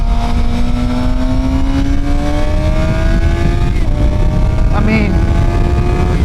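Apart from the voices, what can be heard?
Suzuki GSXR 750 motorcycle engine shifting through gears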